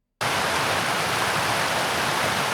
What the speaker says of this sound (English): play our scene and see if we hear that waterfall